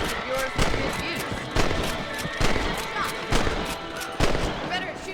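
Gunshots ring out at rabbits in Red Dead Redemption, about six loud cracks spaced roughly a second apart over a busy game soundscape with a voice talking.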